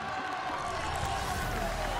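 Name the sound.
live crowd cheering wildly at DreamHack Dallas Halo event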